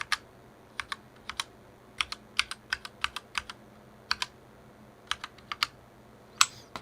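Keys clack on a GMMK 60% mechanical keyboard in crisp, close taps, some single and some in quick clusters, with gaps between bursts and no talking.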